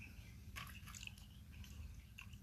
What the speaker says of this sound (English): I think you get to watch a fat man chew.